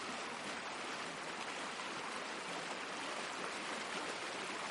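Steady rain falls on the open water of an irrigation reservoir, a dense, even hiss of drops that stays constant and fairly soft throughout, with no voices.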